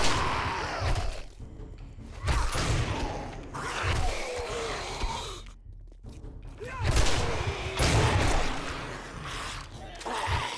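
Shotgun blasts and scattered impacts in the video game 7 Days to Die come in irregular bursts amid chaotic combat noise, with loud thumps separated by brief lulls.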